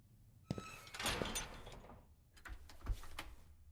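A locked door being tried in the Asylum game, faint mechanical rattling and clunking of the handle and latch in two short bursts separated by a pause, no voices.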